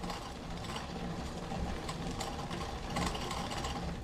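Drivetrain of a gravel bike with a 2x gear system, a steady close whirring, ticking mechanical noise from the chain and gears as it is pedalled, with no talk.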